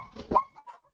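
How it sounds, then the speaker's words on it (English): A dog gives a couple of short barks and whimpering yelps at a distance, the sound thin and muffled with quiet gaps between bursts and no talking over it. "my dog is going off"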